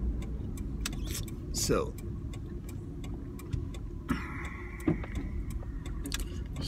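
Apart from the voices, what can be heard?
truck driving and parking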